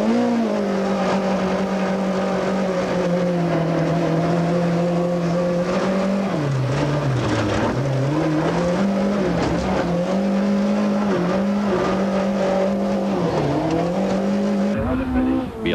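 A damaged Toyota Conquest rally car labours through the last stretch of a stage, its engine droning loud and close with rising and falling revs and brief dips, tyres scrabbling on the surface throughout.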